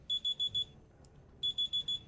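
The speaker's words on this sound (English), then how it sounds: "Oh, sorry, timer just went off." A timer goes off with a high electronic beeping, two short runs of four rapid beeps separated by a brief pause, fairly soft and alone.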